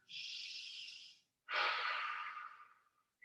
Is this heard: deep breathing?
yes